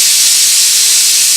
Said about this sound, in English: Now we're going to use this to release the steam.